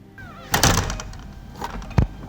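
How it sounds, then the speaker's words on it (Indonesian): A door flung open roughly in a house, a faint creak followed by two loud thuds of the door knocking about, with a brief gap between them. "Pintu dibuka dengan kasar hingga menimbulkan suara berderak"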